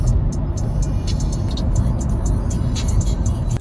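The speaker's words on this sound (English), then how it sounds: "Driving on the right side." Car driving through Cyprus traffic, a steady loud engine and road rumble from inside the vehicle, with faint ticking and passing noises over the top.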